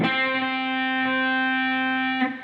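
A single picked electric guitar note on the 10th fret of the D string rings out through an effects unit with distortion, sustaining steadily for about two seconds before a brief scrape at the end.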